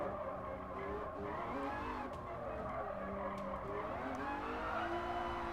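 Car tires squealing under hard braking in Gran Turismo Sport during a midship racing challenge: a continuous wavering skid tone over steady engine drone, fairly faint and uninterrupted by talk.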